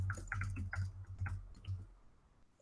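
A computer mouse clicks while working in Google Slides: a quick, irregular run of about a dozen soft, close clicks that stops after two seconds, leaving quiet.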